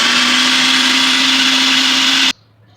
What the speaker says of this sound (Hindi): हरा मसाला डाल के दोबारा इसको हम चॉप कर रहे हैं।